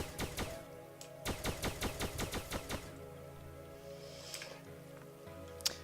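Rapid bursts of video game gunfire from an enemy named Agnew, sharp repeated shots in quick volleys with a short pause between bursts, then fading into a low ambient hum with a faint click near the end.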